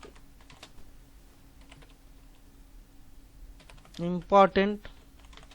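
Light, sparse keystroke clicks from typing on a computer keyboard into a new document, followed near the end by a short burst of speech.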